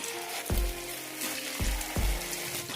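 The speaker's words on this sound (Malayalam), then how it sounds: "ചട്ടിയിലേക്ക് എണ്ണ ഒഴിച്ചിട്ടുണ്ട് ഇതിലേക്ക് മാവ് ഒഴിക്കാം" Broken wheat appam batter frying in hot oil in a pan, a continuous crackling sizzle that swells in several bursts, close and alone without voices.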